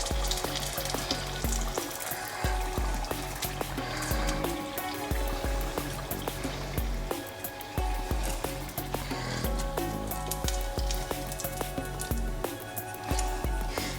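Vegan spring rolls (nems) fry in a pan with oil, giving a dense, steady sizzle with crackling pops that continues without pause, close and fairly loud.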